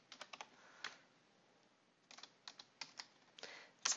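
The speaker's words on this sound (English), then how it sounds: "I'm just going to go ahead and type in my location that I'd like to annotate" Bursts of keystrokes on a computer keyboard, a quick run of taps, a pause of about a second, then more uneven clusters of presses, close and fairly quiet with no talking.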